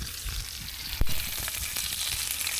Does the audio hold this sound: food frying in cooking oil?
yes